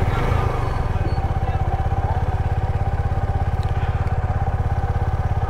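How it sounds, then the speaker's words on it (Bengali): A Suzuki Gixxer 250 motorcycle runs steadily at a test ride event, its single-cylinder engine giving a loud, close, rapid even thrum with a faint voice briefly underneath. "এখন হচ্ছে সুজুকি জিক্সার 250।"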